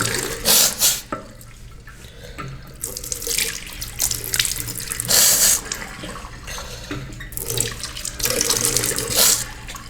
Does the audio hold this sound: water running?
yes